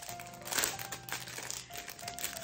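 Crinkling and rustling of wrapping or plastic packaging as a Christmas gift is opened, a steady close, soft crackle running throughout with no voices.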